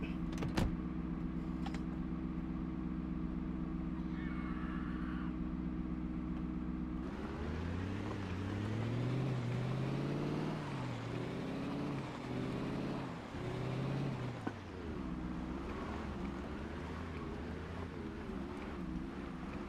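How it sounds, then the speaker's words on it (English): A car engine running in the game Project Zomboid, a steady low hum that rises into revving, pitch-sliding surges midway before settling, heard alone. "Running engine's not helping that much, to be honest."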